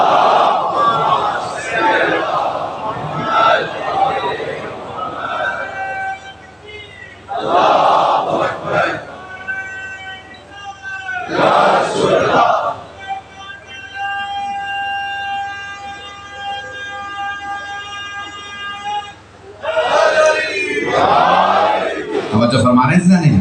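At a Muharram majlis in a Lahore imambargah, a large congregation chants salawat loudly in unison, with repeated swelling waves of massed voices punctuated by quieter gaps.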